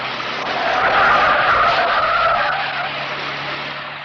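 A car's tires screech in a long sustained skid as it swings around a corner during a chase, loud and close, swelling and easing over several seconds.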